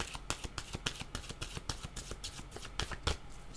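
Oracle cards are shuffled by hand in a steady run of crisp riffling slaps and flicks, close up and moderately quiet, with no talking.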